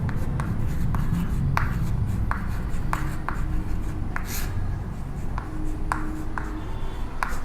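Chalk or marker strokes on a classroom board make a steady run of short scratchy taps during an electrochemistry lesson, close and clear over a faint room hum. No one talks.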